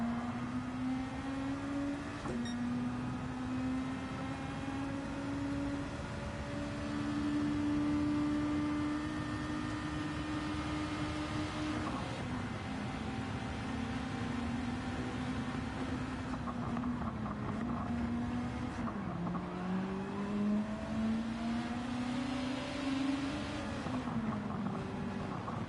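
A race car with a damaged engine in a racing video game on the Nurburgring laps at a strained, steady drone, its pitch holding level for long stretches, dipping, then climbing again, with no talk over it.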